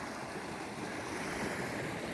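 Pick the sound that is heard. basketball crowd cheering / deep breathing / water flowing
water flowing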